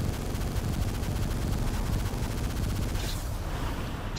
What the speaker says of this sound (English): Tons of rockets.